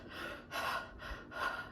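A voice imitates heavy, breathless gasping from running, with four rhythmic ragged in-and-out breaths heard up close and alone.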